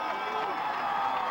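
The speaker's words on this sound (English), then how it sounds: "Crowd getting very excited." A crowd at a high school football game between the DeWitt Panthers and the Haslett Vikings cheers and roars in a continuous loud wash of voices during a big play.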